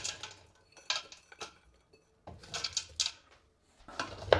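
About 1.2 kilos of wild berries tumble into a large 5–6 litre pot heating on a stove, making a few bursts of light clattering and tapping separated by brief quiet gaps.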